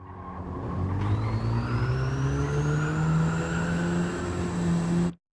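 Hyundai Elantra race car engine in Gran Turismo 7 accelerating at full throttle out of a slow corner on the Nürburgring GP circuit, a steady loud rising drone with a whine climbing in pitch, alone without talk.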